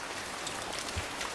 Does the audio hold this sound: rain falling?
yes